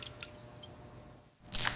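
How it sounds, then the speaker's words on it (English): Dirty wash water drains off cleaned computer scrap: a few scattered drips and soft trickles, a brief hush, then a louder splashing gush at the end. "Draining the dirty water, the scrap is clean, shiny and ready."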